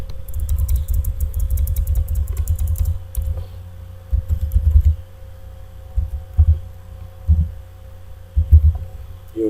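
Someone types on a computer keyboard close by: a fast burst of crisp key clicks, then slower, irregular taps over a steady low electrical hum, with no talking.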